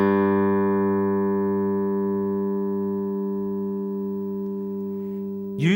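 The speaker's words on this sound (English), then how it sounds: "The first string is known as the G string and is tuned to the note of G." A bass guitar's open G string sounds a single sustained tuning note, plucked once and left to ring with steady harmonics, slowly decaying alone until a brief thump at the end.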